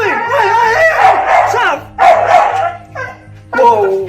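Saffron the dog barks at a doll in a house, a rapid run of loud close barks and yelps in several bursts, with whiny tones between.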